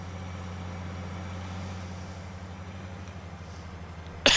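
A harvester engine idles in a farming game, a steady low drone with even mechanical hum and no talk, ending in a sudden loud burst.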